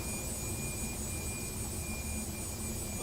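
A steady, even jet engine drone plays inside a flight simulator game, a Premier business jet at a constant level for the whole stretch, with no voices.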